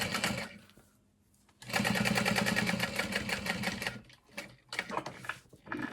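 A sewing machine stitches fabric pieces at a long stitch length, starting with a brief whir, then running steadily in a fast, even rhythm before slowing into shorter start-stop bursts up close.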